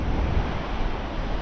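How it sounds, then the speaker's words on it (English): Steady westerly breeze and sea surf on a North Wales beach at Prestatyn, a continuous low broadband rush of wind and breaking waves with no distinct events, fairly loud and close. "Slight breeze, westerly, up to like 15-16 mile an hour gust."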